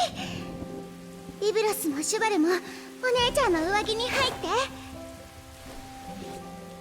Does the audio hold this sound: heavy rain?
yes